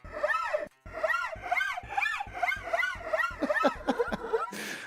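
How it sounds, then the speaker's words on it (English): Guitar fret noise effect from the MIDImorphosis 2 iOS app: repeated rising and falling squeaks, like fingers sliding along wound strings, in a quick rhythmic series that ends in a short noisy burst. It plays alone and close. "Fret noise. I want some fret noise on my frets."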